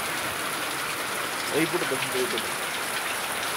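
Heavy rain pours in a steady, dense hiss, with a person briefly speaking over it midway.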